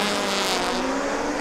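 Rallycross cars launch together at a Riga race, including a little Super 1600 and a front-wheel-drive Fabia, with a loud, dense roar of engines building as they pull away, no voices over it.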